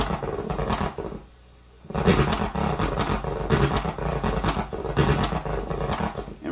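A DJ turntable scratch with a power-down deceleration produces loud, growling, roar-like scratching in repeated strokes, broken by a short quiet gap, then continuing with pitch sweeps.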